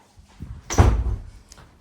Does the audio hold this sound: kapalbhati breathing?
no